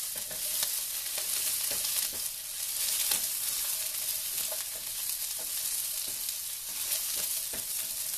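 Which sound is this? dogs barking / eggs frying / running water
eggs frying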